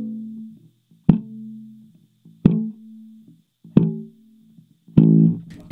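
Slap bass practice on an electric bass, with four sharp, choked percussive thumb slaps on the E string spaced about a second apart. Each slap is followed by a short muted hum. A busier, ringing attack comes at the end.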